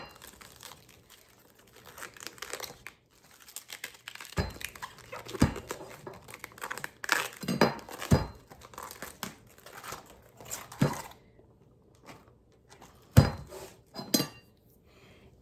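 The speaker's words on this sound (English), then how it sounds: "And I'm just going to cut off a few of these leaves." A knife cuts leaves off a head of cabbage in a home kitchen, giving intermittent crisp crunches and tearing, crinkling sounds with scattered clicks and clatter on the counter, close and moderately loud.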